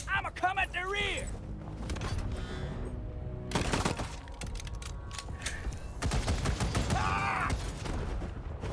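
Bursts of automatic gunfire from a combat bot in Wasteland 3, several rapid volleys of shots with clattering mechanical sounds between them, all mixed with a voice talking over the action.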